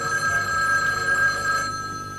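A telephone bell rings steadily and loudly indoors in a TV soap-opera scene, a continuous bright ringing tone holding for about two seconds before easing slightly, with no voices over it.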